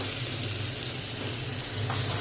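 Onions sizzling steadily in hot oil in a pan, the first step of a hilsa fish curry, a continuous close frying hiss with no talk.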